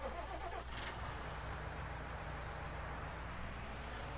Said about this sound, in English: So let's get in our tractor.